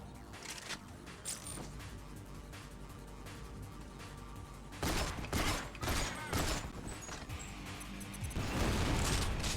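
Gunfire and a sudden loud blast from a grenade in GoldenEye: Rogue Agent on Xbox, the calmer stretch giving way to heavy bursts of noise and chaotic rattling combat sounds that swell toward the end.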